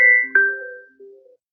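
Mobile phone ringtone from an incoming call, a short electronic melodic chime of two or three tones, near and clear, fading out after about a second and a half with no talk over it.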